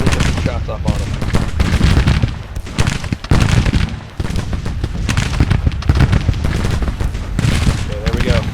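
Dense, continuous musket gunfire fills a Civil War battle at Manassas in a strategy game, with overlapping volleys and scattered shots crackling steadily throughout, loud and close, with no pause.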